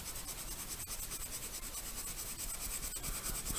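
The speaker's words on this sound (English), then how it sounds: "I'm going to rub out these lines here now" An eraser scrubs out pencil guidelines on a drawing of casement window details, a steady, close, dry rubbing that runs without pause.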